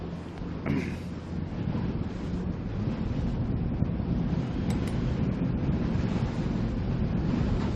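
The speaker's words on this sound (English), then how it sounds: "Breeze, as I said, about 18 knots, so not too uncomfortable" An 18-knot breeze on open water while sailing in a race, steady wind rushing over the microphone with the wash of choppy water beneath, loud and continuous, with no talk.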